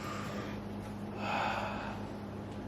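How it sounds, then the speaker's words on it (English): A single deep, close breath drawn in and let out, a soft rushing exhale swelling briefly over quiet room noise, with no talking. "Breathe in, breathe out."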